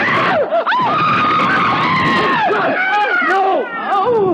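A car skids with a long screech as the brake is grabbed, loud and close, while voices shout and scream over it.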